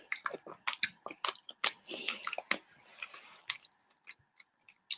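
Close, loud chewing of food right at the microphone: wet smacking and crunchy bites in an irregular rhythm, fading to a few quieter munches at the end.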